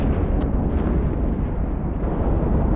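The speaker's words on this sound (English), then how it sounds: "there's my enemy ship that I'm firing at currently" Ship weapons firing in the space game EVE Online, a dense, steady low rumble of continuous bombardment with faint pops on top, loud and sustained throughout.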